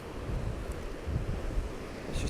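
Ocean waves coming in at Ramore Head at dawn, a soft continuous wash with gentle swells of low rumble and light wind, distant and fairly quiet.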